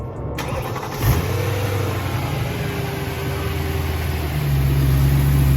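A BMW E92 M3 with a DCT gearbox and an idle issue cranks briefly, catches and settles into a loud, steady idle heard up close, with the pitch lifting slightly near the end.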